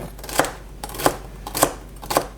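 A knife cuts through celery on a cutting board with four separate crisp chops at a slow, even pace, close and clear over a low background hum.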